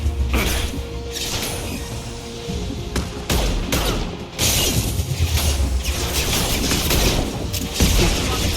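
Heavy combat gunfire in the Mass Effect 2 video game, a dense, loud run of weapon bursts and impacts with sharp cracks and booms, continuous over several seconds and hardly any talk.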